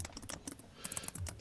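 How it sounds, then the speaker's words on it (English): Rapid clicking of keys on a computer keyboard, a steady run of close, crisp taps with no voices over it. "And you good at typing."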